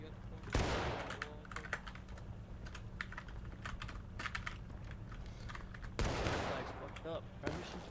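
Infantry in the Civil War game War of Brothers fire an independent rifle volley down a fence line, with two loud shots near the start and end and scattered crackling shots between them.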